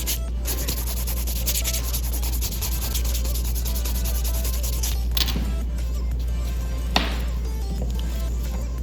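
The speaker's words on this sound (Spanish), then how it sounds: "voy a pulir esa uñita para ya poderla visualizar mejor, que la puedan ver ya terminada" A square acrylic nail is buffed with steady, close, scratchy rubbing over a constant low hum, broken by a couple of brief pauses and a sharp click, with no voices.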